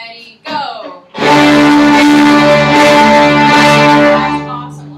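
A school string class bows together on the D string with extra first-finger pressure: a loud, sustained, slightly rough ensemble tone after a brief voice and short noises.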